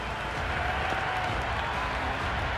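A cricket stadium crowd applauds and cheers steadily after a six in a London Spirit chase, a dense, distant-sounding wash of clapping and murmur with no distinct voices.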